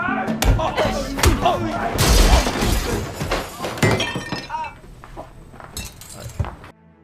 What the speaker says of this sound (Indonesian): Dono dan teman-temannya menyerang membabi buta hingga mereka menghancurkan guci abu mendiang